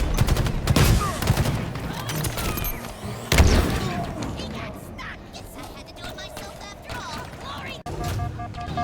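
Gunfire rings out in Halo Infinite combat as rapid bursts of shots and heavy booms, with one loud blast in the middle, dense and busy under game voices and chatter.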